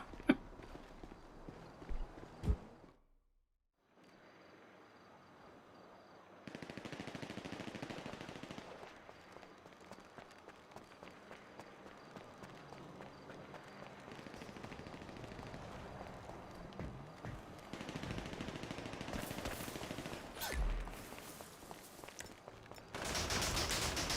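Bursts of rapid gunfire from a GTA Online match crackle in dense, sustained volleys, some near and loud, others more distant, with brief gaps and a short silent stretch early on.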